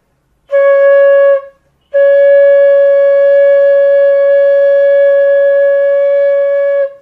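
Bamboo flute played in the G scale, a clean breathy-free tone: one short held note, a brief gap, then a long steady sustained note of about five seconds, close and loud with no talking.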